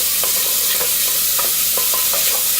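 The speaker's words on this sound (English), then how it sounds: "Place it in a pot and cook it off until nice and crispy" Bacon frying in a pot makes a loud, dense crackle and sizzle with quick popping spatters throughout.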